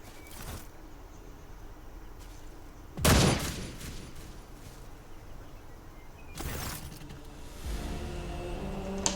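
Gunfire in the Rogue Trader video game: two separate sharp blasts several seconds apart, each a loud broadband burst, over a steady low ambient bed with a rising rumble toward the end.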